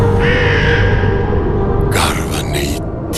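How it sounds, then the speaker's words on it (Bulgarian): Harsh raven caws ring out at a torchlight procession in Petrich, a few rough bursts near the end following a long sustained tone, with a murmur of voices underneath. "Гарване и ти, птицо проклета, на чий гроб тамо тъй грозно грачеш."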